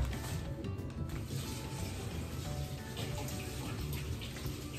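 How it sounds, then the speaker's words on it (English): A water tap running for washing hands, a steady rushing stream of water splashing continuously at moderate level, with a faint high tone above it. "I want to go wash my hands."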